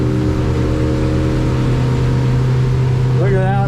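Twin Yamaha F200 outboard motors on a 2021 Duckworth Offshore 28/30 boat, a loud steady engine drone with a rising whine near the end as the throttle opens, under wind and water noise.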